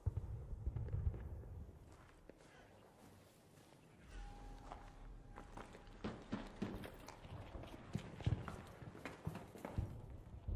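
Footsteps thud in the ARC Raiders video game, a quiet irregular patter of steps mixed with scattered game noises and low rumble.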